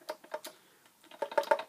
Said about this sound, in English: So when you hit the G-sharp key,